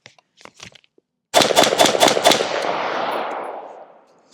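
A rifle fitted with a Rearden/Plan B compatible suppressor accessory fires a rapid string of five loud, close shots, followed by a long rumbling echo that fades out. Faint handling noises come first.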